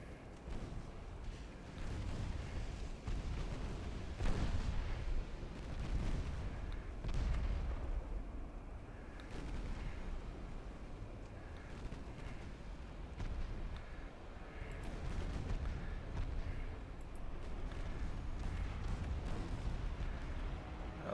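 Naval gunfire from warships in Ultimate Admiral Dreadnoughts sounds as repeated low booms and rumbling blasts spread over about twenty seconds, fairly faint and distant, with no talk.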